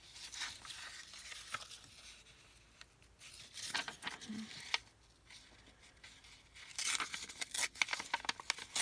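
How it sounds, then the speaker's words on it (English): Paper being ripped by hand to make tags, heard as a series of irregular tearing and crinkling bursts, close and fairly soft, clustering more densely toward the end. "I'm holding with my left and ripping with my right, and that's giving me the white torn look there"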